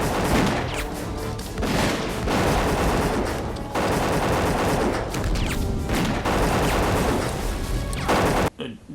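Loud, sustained gunfire in a film firefight, rapid automatic bursts and overlapping shots in clustered volleys, ending abruptly in near silence.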